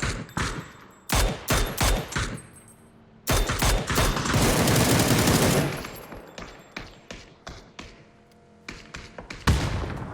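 Gunfire in the battle-royale video game PUBG: sharp single shots and tight bursts crack close and loud, with a sustained automatic volley in the middle and scattered shots after. No speech is heard.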